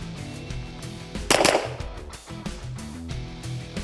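Gunshots from a pre-match shooting drill, with one loud sharp report standing out against steady background noise and fainter impacts around it.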